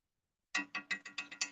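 A crow caws in the background outside a home kitchen. After a moment of silence, seven harsh, evenly spaced caws come in a quick rhythmic series, moderately faint, with no talking over them.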